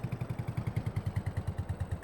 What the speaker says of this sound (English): it seems like the tractor just hasn't got the horsepower required to pull that up